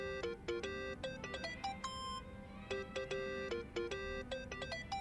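Phone ringtone in the video game Yakuza: Like A Dragon, a bright electronic melody of quick repeated chiming notes in bursts, playing clearly over a low hum with no one talking.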